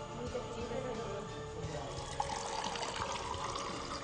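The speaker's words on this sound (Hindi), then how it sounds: "ये मैं इसमें भरती हूँ पानी, नलका खोल के हम देखते हैं कि क्या सिचुएशन है" Tap water runs steadily into a container at a household sink, a continuous close splashing gush with no speech.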